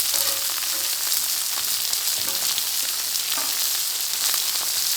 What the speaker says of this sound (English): see all that bacon grease? Add a pat of butter and a pat of butter.